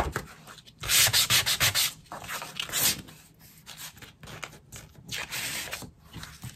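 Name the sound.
rubbing and sanding embossed background paper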